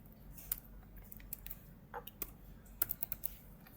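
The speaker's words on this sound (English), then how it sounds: "Suppose for example I'll type" Keys on a computer keyboard are tapped in short, irregular bursts to enter a process ID, each click faint and close against a quiet room hum, with a small cluster of quick taps near the end.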